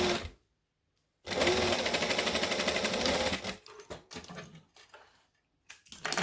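A sewing machine stitches fabric in a fast, close, steady mechanical whir for about two seconds, then stops and restarts in short bursts separated by silence.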